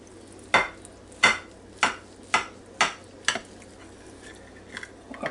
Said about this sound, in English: now I'm going to slice off a little piece here on the end